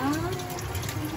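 Water runs steadily from a tap into a kitchen sink during washing up, a continuous close hiss and splash with no pauses.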